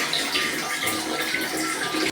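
Water pours and splashes steadily during a bath, a continuous close rushing with no talking.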